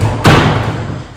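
A wardrobe door thuds shut once, close and loud, in a vacant New York City apartment, followed by a quiet room tone.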